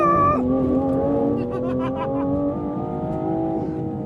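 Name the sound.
2025 Aston Martin Vanquish V12 launch control acceleration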